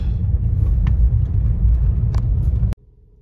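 Car driving on a dry gravel road in North Kananaskis, a loud low rumbling roar of tires and engine that holds steady, then drops off sharply to a quiet hum near the end.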